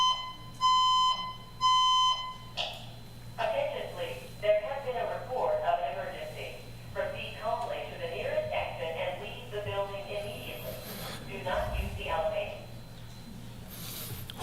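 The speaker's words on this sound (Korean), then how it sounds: "혹시 주무시는 분들이 계실까봐 약간 깨우는 알람이 울렸습니다" An alarm clock rings out during a Sunday church sermon, two sharp bursts of repeated electronic beeping at the start, followed by someone speaking over a quiet background hum.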